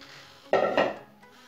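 Paper team-name slips shuffled inside a container ahead of a dog's draw for the knockout round, giving two quick rattling, scraping bursts, fairly close and with no talking.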